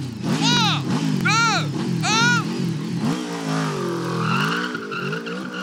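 A Yamaha on 13-year-old tires, its engine revving in rising and falling sweeps as the tires spin and squeal into a drift, loud and close, with excited talk running over it.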